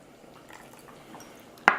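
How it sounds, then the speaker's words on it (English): A splash of water is poured into a thick cashew curry in a blender. A quiet stretch ends in one brief, sharp, close splash. "So what I like to do is just add a splash of water"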